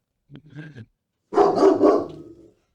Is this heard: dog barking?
yes